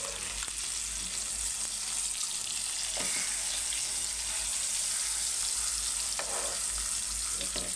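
Fish pieces coated in masala deep fry in hot oil with a dense, steady sizzle and crackle, punctuated by a few louder pops and stirring clatters.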